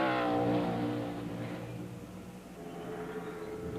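A 1999 NASCAR stock car, Jeremy Mayfield's, roars through a qualifying lap at the SaveMart Kragen 350 road course, its engine loud and close with a steady, slightly falling pitch and no talk over it.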